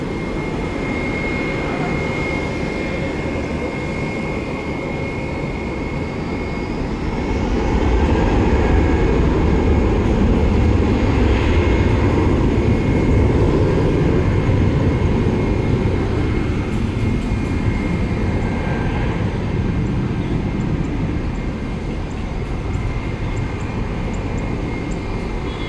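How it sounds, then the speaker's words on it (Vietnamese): An Airbus A320 jet airliner taking off from Tan Son Nhat airport gives a steady, loud broadband engine roar that swells noticeably stronger about a third of the way in and holds, with no talking. "chiếc máy bay Airbus A320 được lệnh cất cánh rời khỏi sân bay Tân Sơn Nhất"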